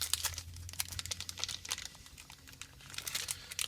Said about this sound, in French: Tu vas-tu t'ouvrir le paquet?